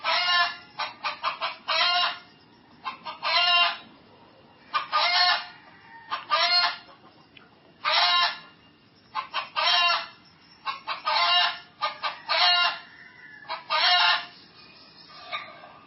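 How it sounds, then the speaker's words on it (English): Chicken clucking in repeated loud, squawking bursts of rapid clucks with short gaps between them, close and insistent throughout with no talking. "The chicken certainly has something to say."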